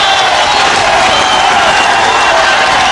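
Wrestling crowd at a 1977 UK bout, a dense, loud roar of cheering and shouting voices with scattered clapping, sustained throughout.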